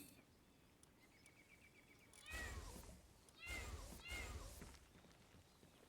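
Cat-like creatures in the game Palworld give a few faint, close mewing calls in short bursts over a quiet background with insect-like chirps.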